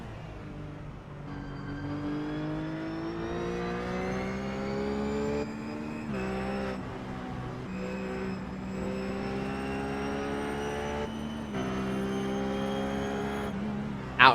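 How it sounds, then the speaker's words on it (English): Onboard the Team GT number 777 race car driven by Nicolas Cerati at Road America, its engine droning loud and steady as it climbs through the revs with gear changes and brief lifts. "as we ride back on board with the Team GT car, the 777 machine of Nicolas Cerati"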